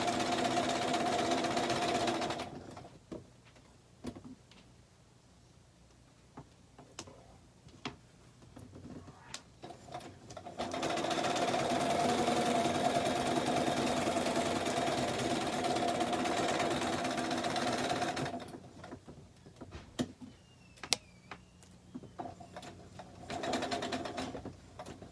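A sewing machine stitches a table runner, running in long, steady whirring bursts with pauses between them, close and fairly loud, with faint clicks and handling noises during the quiet stretches.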